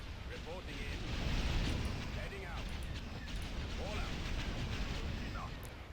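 Sustained weapons fire and blasts during a space battle in Empire at War, a dense rumbling barrage with scattered bright impacts, steady and loud, with faint radio-style voices under it.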